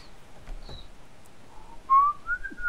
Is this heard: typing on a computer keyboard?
no